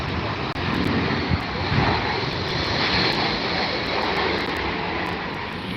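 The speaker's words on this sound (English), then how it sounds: "Fire up them engines." Aircraft at Heathrow with engines running up, a broad steady roar that holds loud and constant throughout, with faint clicks on top.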